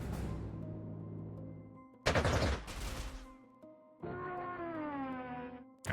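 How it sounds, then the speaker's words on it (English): Aircraft loss in the wartime strategy game Panzer Corps 2, with a dive bomber shot down: sustained droning tones, a loud harsh burst of gunfire and explosion noise midway, then a steady rising mechanical whine, all fairly loud with no talk. "That was our dive bomber getting shot down."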